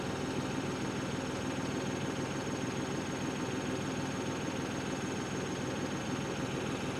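A New Holland Workmaster 75 tractor engine idles in a steady, even mid-pitched rumble with a faint vibration, unchanging and without other sounds.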